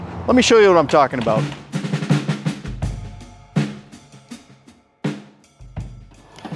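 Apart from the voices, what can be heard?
roofers banging on a roof nearby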